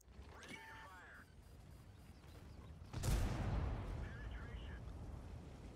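A tank cannon fires once in the World of Tanks video game, a loud, close, booming blast with a long rumbling tail that follows brief quieter game sounds.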